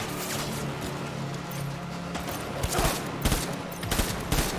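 Gunfire in the video game Death Stranding, a steady rumbling burst followed by several loud, separate blasts, close and heavy.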